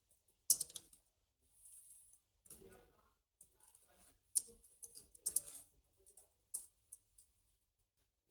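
Fingers tap at a computer keyboard in short, uneven bursts of quiet clicks separated by pauses, close by in an otherwise silent room.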